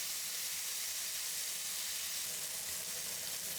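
Jalapeño peppers pan frying in hot oil, tiger-skin style, giving a steady, close, even sizzle and hiss that runs unbroken with no voices.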